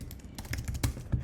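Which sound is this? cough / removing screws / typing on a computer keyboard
typing on a computer keyboard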